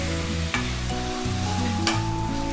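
Steady sizzling of onions and tomatoes frying in a pan for vegetable kurma, with a couple of brief stirring scrapes, under a low musical hum.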